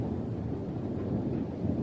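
A steady low rumble of thunder from lightning in Gold Mining Simulator, rolling evenly throughout with a dense broad roar and no talk over it.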